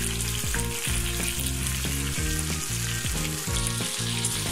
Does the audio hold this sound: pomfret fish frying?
yes